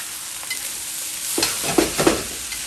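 Shrimp, egg and rice being stir-fried together in a crowded pan for pineapple fried rice, with a steady sizzle broken by a few scraping stirs of a spatula near the end.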